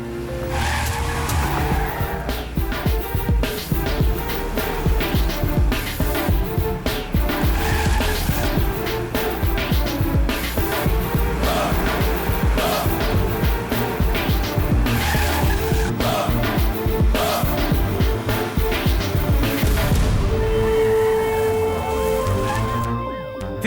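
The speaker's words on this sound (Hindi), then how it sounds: "अरे अरे अरे गाड़ी तेज भगाना यार" A car races at speed with loud, sustained tire squeals and skidding, the engine roaring continuously and close for over twenty seconds, dense and unbroken, in a dramatic chase scene.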